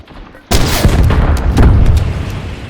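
A rocket explodes in the Warzone video game, a sudden loud boom after a brief quiet lead-in, followed by a rumbling, crackling tail that sustains for a couple of seconds.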